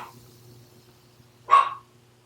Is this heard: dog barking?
yes